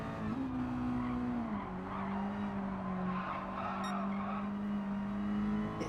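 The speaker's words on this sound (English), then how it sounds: "This car just does not want to grip in the corners. It just seems to want to slide." A race car in Gran Turismo 7 slides through corners with a sustained tire squeal over a steady engine drone, the pitch of the engine note dipping partway through, continuous and close with no talking.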